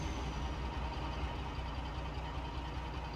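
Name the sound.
truck engine warming up and idling in the video game Snowrunner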